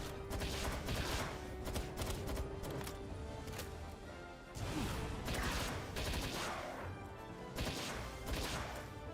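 Rapid rifle gunfire from a legendary rifle in the video game Palworld, rattling in dense, sustained bursts with short gaps, loud and close against a busy battle mix with no talking.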